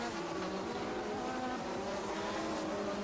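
1987 Formula 1 race cars, including Williams, braking and powering through a chicane: a dense, continuous, loud engine roar with buzzing harmonic tones and no pause for the full three seconds.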